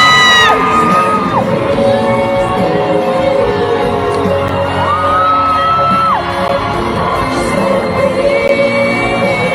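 Loud screaming and whooping from a crowd of fans at a concert, one close shrill voice rising in long sustained yells over the general roar of the audience.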